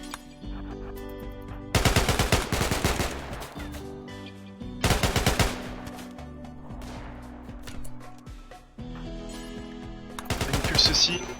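Automatic weapons fire in a RimWorld colony fight, loud rattling bursts, three main volleys separated by quieter gaps, with a lighter spatter of shots late on.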